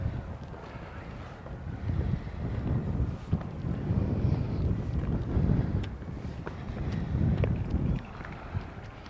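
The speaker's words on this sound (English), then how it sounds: "It's getting a lot more breezy up here now." Steady gusting wind buffets the microphone on an exposed hilltop topped by three crosses, a continuous low rumble that swells and eases in waves over several seconds, with no talk.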